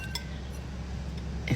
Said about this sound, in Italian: Poi mischiate i due formaggi, parmigiano e pecorino, così